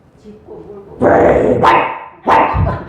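A person imitates a fierce dog barking, voicing two loud, harsh bark-like bursts after some quieter vocal sounds.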